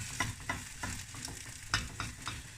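Egg omelette sizzles steadily in a frying pan while a utensil stirs and breaks it up, giving soft scraping strokes at a regular rhythm over the continuous frying hiss.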